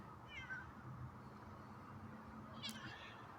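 A cat meows faintly in a quiet room, once near the start and again a few seconds later, both calls distant under a steady low background hum.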